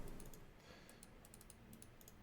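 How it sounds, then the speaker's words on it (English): Keyboard typing, quick clusters of light clicking keystrokes heard faintly against a steady background hiss, with no voices. "Hank is typing something"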